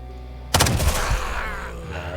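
A single sharp gunshot in the Quasimorph video game cracks out after a short quiet moment, followed by a rumbling, decaying tail of echo and debris noise.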